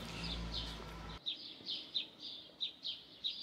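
A blackbird calls in a garden with repeated short, high chirps at a steady rhythm. A louder low rumble at the start stops abruptly, and the calls continue faint and distant.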